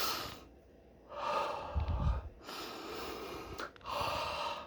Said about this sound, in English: Take deep breaths in and out